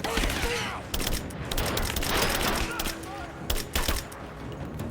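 Sustained suppressing gunfire from the Rise of the Tomb Raider Baba Yaga: The Temple of the Witch DLC, dense volleys of rapid shots rattling continuously and loudly across the whole stretch, with scattered bursts standing out near the end.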